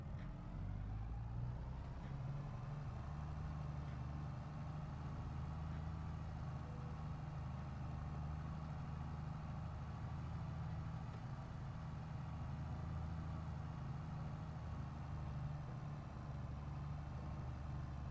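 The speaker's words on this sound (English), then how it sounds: "This is kind of a kick-ass tractor here." A tractor engine in a farming video game, a steady low droning rumble that holds constant and even throughout, with no talking over it.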